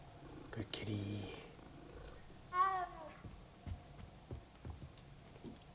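A cat purrs softly in the Hogwarts Legacy video game, a low rumbling murmur that comes in brief bursts, with a voice and other game sounds around it.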